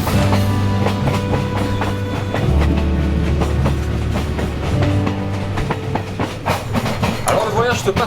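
Loud, steady rumble of a passenger train crossing Tanzania, heard from inside the carriage, with rhythmic clickety-clack of wheels over rail joints, rattling and metallic squeals, and faint voices in the background.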